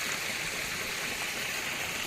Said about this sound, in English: we have water pipes, water coming down from the springs